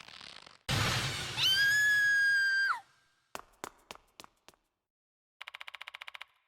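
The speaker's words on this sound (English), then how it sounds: "She screamed and ran away." A woman's high scream rises and holds, then breaks off abruptly in the horror game Death Mark 2, followed by sharp percussive hits and a rapid, buzzing rattle.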